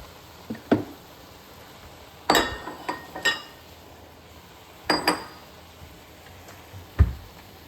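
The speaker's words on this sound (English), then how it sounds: "Big bowls will be for the salad." Large salad bowls clink and knock as they are handled in a home kitchen, in a few sharp, scattered contacts separated by quiet pauses, with no talking.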